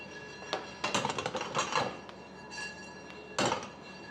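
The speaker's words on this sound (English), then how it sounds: "Oh, that must be the cracking." Coffee beans roasting in a carbon steel pan give off scattered, sharp cracks and pops up close, in irregular clusters with brief pauses between bursts.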